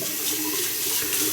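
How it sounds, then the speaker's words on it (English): Cold water from a tap runs steadily into a sink, a constant close splashing hiss with no pauses and no talk. "I have to leave the tap running a little bit longer"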